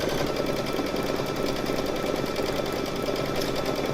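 A Brother Luminaire Innovis XP1 embroidery machine stitching, giving a steady, continuous mechanical hum with a fast, even needle rhythm at moderate level, heard alone.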